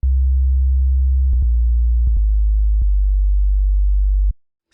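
Low, dull synth bass from FL Studio's 3xOSC holds a steady, muffled sine-like drone. It shifts note several times with soft clicks and stops abruptly near the end, with no talk over it.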